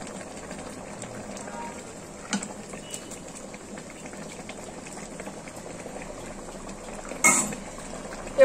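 Khichuri of lentils and greens simmering in a pot, a soft steady bubbling hiss throughout, with a couple of brief clinks of utensils and a sharper clatter near the end.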